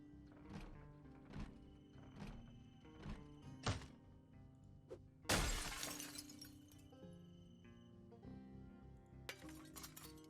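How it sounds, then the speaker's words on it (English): Glass shattering in the survival game Project Zomboid, several sharp clinks and thunks first, then one loud crash of breaking glass with tinkling debris, and a few more clinks trailing after. "Can we remove the broken glass without cutting ourselves?"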